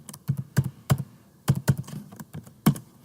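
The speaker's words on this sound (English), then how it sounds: "I'm typing 6 things there" Typing on a computer keyboard, a close run of distinct clacking keystrokes in uneven bursts, with no voice over them.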